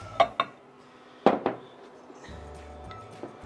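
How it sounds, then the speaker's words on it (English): A wooden spoon mixes cauliflower-flour pizza dough in a bowl, giving a few sharp knocks and clatters early on, then quieter scraping and soft taps, with no voices. "give it a little mix up so you can see it's turned into a dough"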